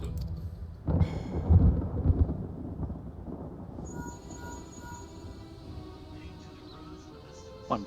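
Rolling thunder from a storm over ruins in Final Fantasy XIV rumbles low and heavy, swelling in a few loud bursts early on and then fading to a steady distant grumble with a soft tonal layer above.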